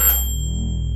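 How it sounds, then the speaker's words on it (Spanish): An electronic doorbell gives a single bright, sustained ding that fades slowly in a quiet room, with a low hum underneath and no talking. "El timbre volvió a sonar."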